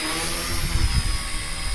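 A K110S radio-controlled helicopter flying and turning left and right, a steady high whine of rotor and motor with a low fluttering buzz that swells slightly during the turns, close and loud, no talking.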